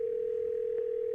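A telephone dial tone hums as a call is placed, a single steady continuous pitch heard alone at moderate volume.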